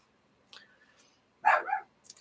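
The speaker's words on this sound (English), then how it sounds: "my dog is barking" A dog barks indoors, a few short sharp yaps spaced apart followed by a louder, fuller bark and a final yip, fairly close with quiet gaps between.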